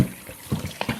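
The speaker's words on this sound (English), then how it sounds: "let's put water in it" Water poured into a bowl of freshly churned butter being worked with a wooden spoon, heard as short splashing, trickling bursts at close range with no talking.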